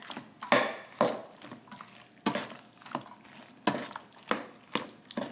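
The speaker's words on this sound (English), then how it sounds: "we're just going to go ahead and mix everything we have so far together" Drained fire-roasted corn being mixed into pasta salad ingredients, a spoon scraping and clacking against a bowl in about nine sharp, roughly regular strokes, close and with no voices.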